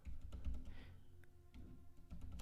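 Steady typing on a computer keyboard as a short quote is entered, quick clustered key clicks in close, soft bursts with brief pauses.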